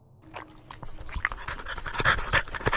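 Fendi, a dog out on a wild camping trip by a beach, pants quickly and close up in rapid rhythmic breaths, with small whimpers mixed in.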